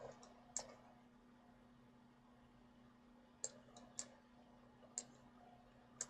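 Sharp computer mouse clicks, five or six distinct taps spaced irregularly over a quiet background with a faint steady hum, each click close and crisp.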